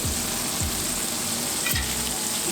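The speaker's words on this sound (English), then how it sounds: "I'm going to zip over and flip our burgers one more time." Smash burgers sizzle loudly and steadily on a hot griddle, a close, constant crackling hiss with a few low scraping bumps as the patties are turned.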